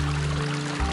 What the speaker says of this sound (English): And there it is, the babbling brook.